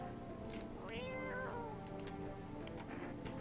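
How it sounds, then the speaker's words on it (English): A cat meows in the video game No, I'm Not a Human, one drawn-out meow over a dull ambient hum, with faint clicks scattered around it. "Oh, the cat's here."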